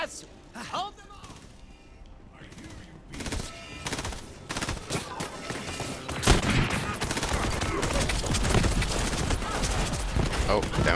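Bursts of rapid gunfire rattle through a Borderlands 3 co-op firefight, sparse shots at first, then building into a dense, loud, continuous barrage of automatic fire and impacts.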